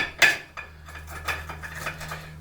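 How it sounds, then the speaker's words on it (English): A soft-boiled egg cooked in an air fryer is cracked open with a spoon: one sharp tap, then a few lighter clinks and scrapes of shell, close and fairly quiet. "Let's crack this egg open."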